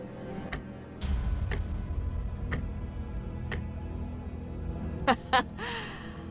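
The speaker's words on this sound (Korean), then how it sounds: "응. 째깍거리는 소리만 들리네." Steady ticking from a clock-headed enemy in Limbus Company, evenly spaced clicks roughly once per second over a low game ambience, with a couple of sharper, louder clicks near the end.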